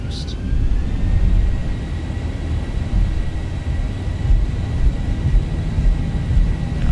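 Simulated Boeing 737 (ZIBO mod) jet engines spooling to takeoff thrust in X-Plane 12 at Skiathos, a steady broad roar and rumble with faint high whine lines, held at constant loudness under intermittent talk.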